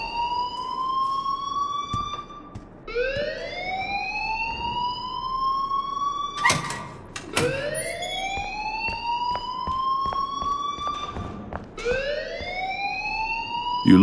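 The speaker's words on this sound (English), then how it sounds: "please turn off that alarm since that's your job." A rising, wailing electronic alarm sounds in Life Is Strange, sweeping upward in repeated cycles of roughly three seconds with sharp bursts between them, loud and continuous throughout.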